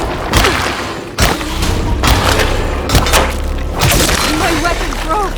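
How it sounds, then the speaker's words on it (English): In the game Alone in the Dark, a weapon breaks amid loud, close wooden thumps and splintering cracks, several heavy impacts spread across a few seconds over steady game background noise. "My weapon broke!"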